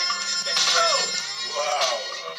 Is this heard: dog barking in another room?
no